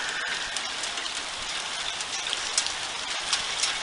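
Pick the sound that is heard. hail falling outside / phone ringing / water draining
hail falling outside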